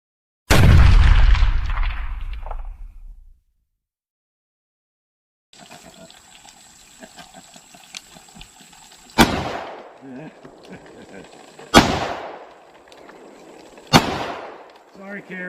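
Taurus Judge revolver firing outdoors at a range: one loud shot with a long ringing decay, then after a quiet gap three more sharp, evenly spaced blasts over a steady hiss of background noise.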